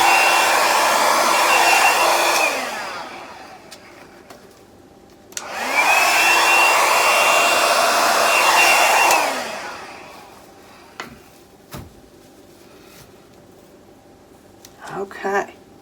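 A hair dryer blows acrylic paint off the edge of a canvas in two loud, close bursts of steady whooshing airflow, each running a few seconds, followed by quieter moments with small taps and handling noises.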